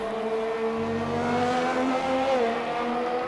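A Ferrari race car in a sim racing league round at a Canadian circuit, its engine droning loud and steady with rising and falling pitch as it drives on.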